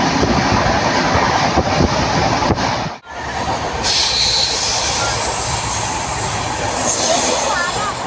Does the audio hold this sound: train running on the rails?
yes